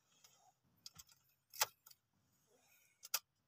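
Keys jangle and an ignition key clicks as it turns in a manual transmission car, a few short sharp metallic bursts close by in a quiet cabin.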